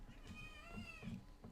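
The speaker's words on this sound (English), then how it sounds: "Just ignore the little kitten cries." A kitten named Finley cries close by with a drawn-out, wavering meow, followed by a few softer, shorter whimpers, no talking.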